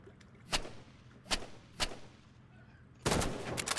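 Gunfire aimed at the player in the video game Rivals: three sharp single shots spaced apart, then a loud rapid burst at the end, all close and punchy.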